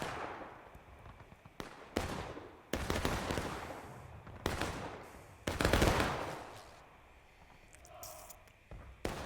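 Musket volleys from a large multiplayer Civil War battle game, a series of loud, rolling bursts of many overlapping shots separated by brief lulls, with a distant drawn-out roar between them.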